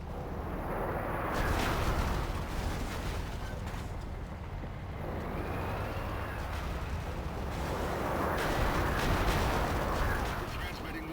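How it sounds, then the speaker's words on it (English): Rumbling artillery fire from the EDF in the video game Red Faction: Guerrilla, a continuous loud barrage of deep booms swelling and fading over about eleven seconds, with speech mixed in. "EDF artillery is firing on Dust as we speak"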